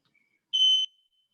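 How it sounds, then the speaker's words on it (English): One short, shrill electronic chirp from a home smoke detector, a high steady tone lasting about a third of a second, clear against near silence. "I think it was fire alarm in my house"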